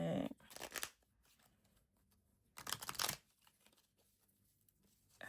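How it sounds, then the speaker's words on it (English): Playing cards being handled up close: two bursts of crisp riffling and shuffling, each about a second long, separated by quiet, with no talk. "Cut the deck and then pull 3 cards."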